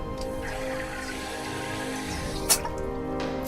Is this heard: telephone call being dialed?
no